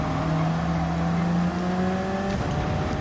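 Racing car engine in Gran Turismo 7 holds a steady droning whine with layered tones, then shifts pitch near the end as gears change, loud and continuous without voices.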